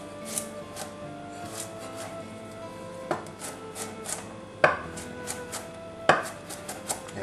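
Fresh ginger is chopped finely with a knife on a board, with scattered close, crisp taps and a few louder knocks, the cuts irregular and spaced out, no voice.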